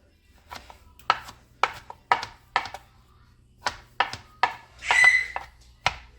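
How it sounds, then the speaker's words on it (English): A knife chops through tough, fatty pork chops on a board, about a dozen firm thunks in an uneven rhythm, close and clear with little else around them. "we can just chop"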